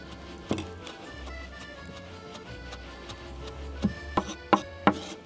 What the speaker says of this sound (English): let's chop this dill up nice and finely